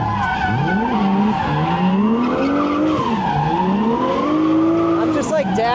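A 1JZ-swapped BMW drifts with its tires skidding and squealing, a loud, sustained wail that bends up and down in pitch over the engine's drone, with no break for the whole stretch.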